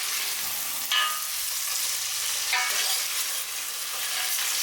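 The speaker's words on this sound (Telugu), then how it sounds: "చక్కగా ఈ సాల్ట్ కూడా కలిసేలాగా మొత్తం మిక్చర్ని ఇలా మిక్స్ చేసుకోండి." A rice mixture with salt being stirred for chicken biryani, a steady sizzling hiss with a couple of sharper scraping strokes, close and continuous with no talk.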